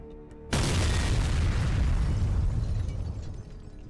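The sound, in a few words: explosions from a Su-27 strike on a command post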